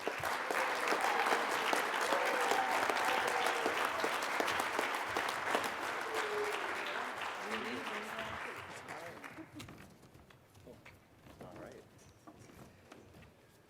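An audience at a district conference plenary session welcomes the District Governor with loud, sustained applause lasting several seconds, then the clapping tapers off and fades.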